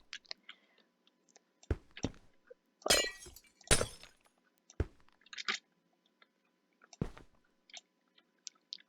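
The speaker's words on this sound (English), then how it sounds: "I am so terrible at placing the glass" Glass panes being placed while building a greenhouse in Minecraft, Bedrock Edition: a scatter of short, sharp clinks and crunchy breaks, some in quick pairs, separated by silence.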